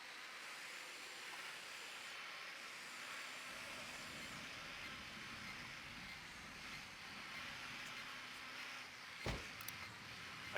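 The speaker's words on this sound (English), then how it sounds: "Deploying drone." A surveillance drone launched in Ghost Recon Wildlands gives a steady, airy whirring hiss throughout, with a brief sharp click near the end and no talking.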